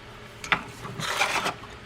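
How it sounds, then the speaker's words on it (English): A Klein Tools split screwdriver turns a screw into the case of a Shakespeare 2091 Seawonder spinning reel, giving close, soft scraping and rasping twists in a few short bursts. "It's a split screwdriver. It's made by Klein Tools, and it enables you to wedge the blade into the slot of the screw to help you get it started."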